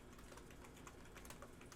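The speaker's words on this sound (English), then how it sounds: "Here I am typing in the wrong stuff." Quick, steady typing on a computer keyboard, soft dense key taps close by at low volume, no talk.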